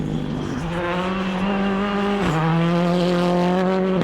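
A rally car with mechanical trouble on a special stage at Rally Barbados: a loud, close engine drone that holds a strained, uneven pitch, stepping up and then sagging, with no voices.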